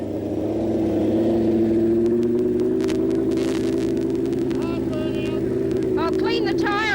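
A drag bike revs hard in a rear-tyre burnout to clean the tyre, a steady loud engine roar with strong harmonics holding throughout, plus rising whine and squeal bursts near the end.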